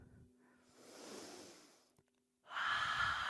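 Deep, slow breaths taken during a yoga core class at Monona Terrace: a long, airy inhale rises and fades, then after a short pause a louder, forceful exhale rushes out close to the microphone.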